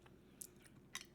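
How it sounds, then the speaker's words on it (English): Someone chewing oatmeal while eating, heard as a few faint, soft, wet mouth clicks and smacks spaced irregularly across a quiet room, with no talking. "If you guys can hear me like chewing or anything, let me know"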